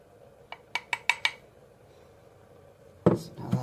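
A spoon clinks five times in quick succession against the side of a pot of ayahuasca brew being stirred, followed by a louder clatter and scrape near the end, with no talking.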